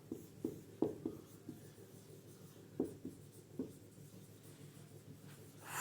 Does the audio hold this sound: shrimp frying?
no